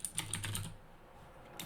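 Computer keyboard keys pressed in a short burst, Alt and arrow key combinations, several quick close clicks in the first half, then a pause and one final tap.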